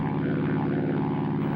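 A WWII propeller aircraft droning in a steady, loud engine roar with a low throbbing hum that holds even throughout, alone without voices.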